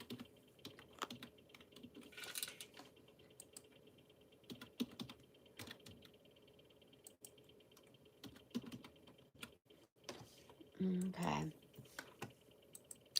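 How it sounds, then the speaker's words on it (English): Quick bursts of typing on a computer keyboard, soft clicking keystrokes in uneven clusters close to the microphone, with a brief spoken word partway through. "I'm just gonna have to type it in here so I don't forget."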